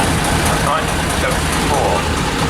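A 1974 LB110 tractor unit engine rumbles steadily at a London to Brighton historic commercial vehicle run, loud and continuous, with someone talking over it.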